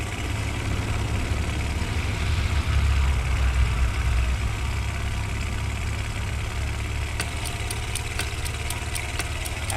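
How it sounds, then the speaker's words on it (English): A heavy truck engine in a WWII-style battle game runs loud and steady, a continuous low droning rumble with no pause, joined near the end by faint rapid clicking. "Alright, rev that engine. Rev that engine."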